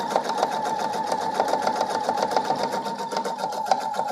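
A sewing machine stitches around the edges of a small quilted four-patch coaster, turning at the corners, with a steady rapid needle chatter running close and even throughout.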